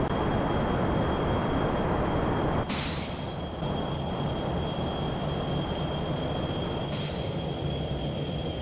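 Rocket boosters in Kerbal Space Program thrusting steadily, a loud, constant roaring rush of engine noise with a couple of brief bright bursts layered over the sustained roar.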